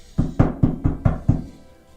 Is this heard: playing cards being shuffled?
no